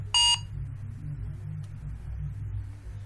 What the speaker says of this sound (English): Let me scan this barcode and check if it is working.